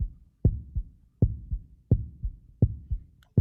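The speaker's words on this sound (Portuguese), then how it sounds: "Batida do coração." A heartbeat pulses steadily in paired lub-dub thumps, five strong beats evenly spaced about every 0.7 seconds, deep and close with nothing else around.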